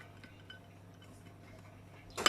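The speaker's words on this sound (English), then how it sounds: "It's the baby playing with the dishes in the sink." A baby plays with dishes and cutlery in a kitchen sink: a few faint, scattered clinks and ticks, then a sudden loud clattering burst of metal and crockery at the end.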